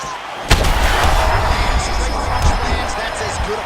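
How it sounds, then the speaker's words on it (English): A punch lands in a UFC 5 video game fight with one sharp thud in the final round, under a constant loud arena crowd roar and commentary. "That's as good a punch as he's thrown all night."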